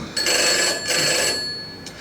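A telephone bell rings in a radio drama, sounding two loud, close bursts with a short pause between and the start of a third near the end, with faint room murmur underneath.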